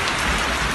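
Rain falls steadily and densely in the evening, a continuous close hiss of drops that stays even throughout.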